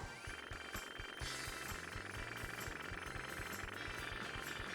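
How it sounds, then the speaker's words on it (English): A boss's petrol-powered jetpack engine in the PS1 game Croc: Legend of the Gobbos gives a rapid, jackhammer-like rattling chug that holds steady and sits quietly in the background. "There's some sort of petrol-powered jetpack, which reminds me of the chainsaw a bit on Silent Hill and the rock drill."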